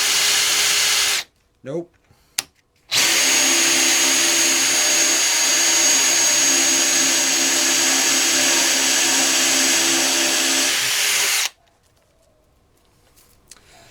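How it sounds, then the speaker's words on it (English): A Dewalt DCD796 hammer drill bores a hole at speed 1 with a loud, steady whine lasting several seconds, after a couple of brief bursts. A voice speaks briefly before the drilling starts. "So it drills really well."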